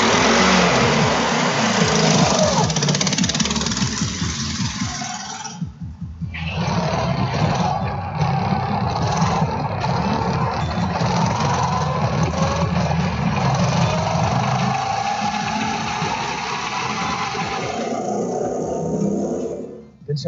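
A go-kart engine accelerates on an indoor track, a loud, continuous raspy roar that rises and holds with brief dips, with faint voices underneath.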